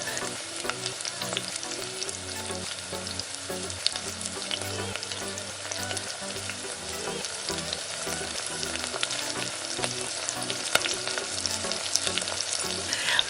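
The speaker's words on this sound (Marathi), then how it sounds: "आता जे मॅरिनेट केलेले चिकनचे पीस आहेत ते आपण इथे तेलावर फ्राय करून घेणार आहोत" Marinated chicken pieces shallow frying in oil in a pan, a dense, continuous sizzle and crackle up close with steady intensity and faint stirring underneath.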